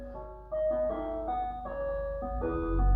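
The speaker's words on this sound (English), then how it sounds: "Yes, the ice cream van is here." An ice cream van's melodic chime jingle plays steadily for several seconds, a continuous tinkling tune over low road rumble, moderately loud and without any talking.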